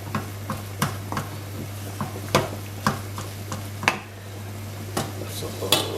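A spoon scrapes and knocks against a pan while cottage pie filling of mince, garlic and peas is mixed, making sharp repeated taps at an uneven rhythm over a steady low hum.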